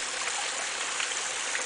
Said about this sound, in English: I don't know where this water's going to, but it's obviously draining somewhere